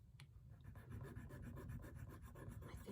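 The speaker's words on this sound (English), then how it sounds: "So let me just scrape those real quick." Jewelry pieces scraped to test for silver make a quick, rapid series of close rasping scratches, repeated in an even rhythm, fairly faint and heard alone.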